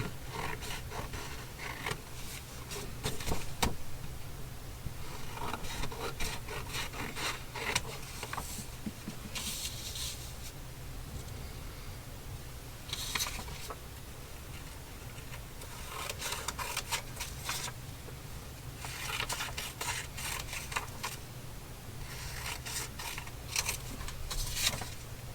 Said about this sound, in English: now I'm going to cut off this edge that has these quotes